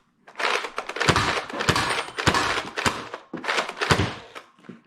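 Mechanical clatter from a NERF Hyper Siege-50 blaster worked in slam fire mode: a run of sharp thunks and rattling strokes, loud and close, in irregular bursts with a pause before a last cluster.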